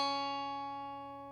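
A single guitar note B, played on the second fret of the second string, rings out clearly and decays slowly, alone.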